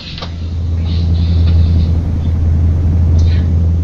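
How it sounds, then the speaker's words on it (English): Right-hand drive UK-spec truck slowing to about 30 km/h near the Hungarian-Romanian border, its engine a deep steady rumble heard from inside the cab, with brief faint higher squeaks over the drone. "Obviously, I'm in a right-hand drive truck, which is a UK spec truck."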